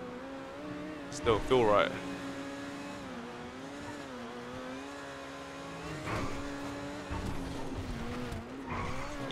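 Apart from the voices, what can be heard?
Overflod Entity MT supercar accelerating in the video game GTA 5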